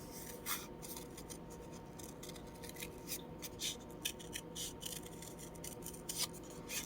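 Scissors snip through paper for a fairy-themed craft, a steady series of close, quiet crisp cuts with small pauses between strokes and no talking.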